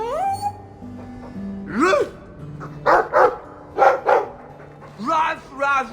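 A dog in the video game Dragon Age II barks in a few sharp bursts close by, with some whimpering yips in between, while spoken dialogue and music run alongside.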